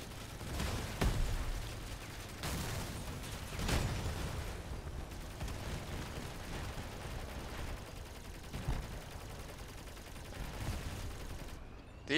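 Vehicle-mounted guns firing in Crossout on a dev server; scattered heavy shots and bursts thump out at irregular intervals over a steady rumbling background, with no talk.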